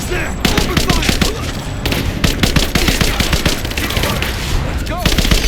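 Dense gunfire in Rise of the Tomb Raider gameplay: loud, rapid automatic bursts and overlapping shots continuing without a break, with shouted voices mixed in.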